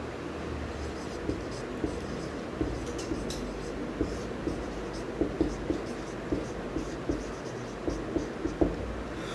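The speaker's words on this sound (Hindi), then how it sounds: "अबुल मंसूर खां नाम लिख देते हैं हम यहाँ पर।" Marker or chalk scratching out a name on a classroom board during a history lesson, a series of short irregular strokes and taps at close range with a faint background hum.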